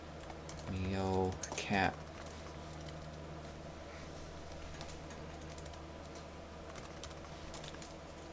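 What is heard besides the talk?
typing a web address on a computer keyboard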